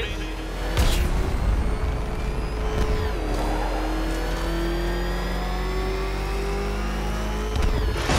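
The Batmobile engine revs hard in Batman Arkham Knight, a loud sustained roar with rising gear-shift whines and bursts of acceleration, with a voice speaking over it.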